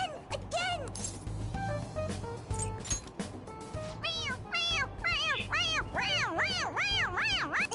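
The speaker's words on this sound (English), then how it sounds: "It's, a toy! It meows when you press on its head." Toy cat in Persona 5 Royal meowing each time its head is pressed, a series of bright, rising-and-falling mews over game music and background voices.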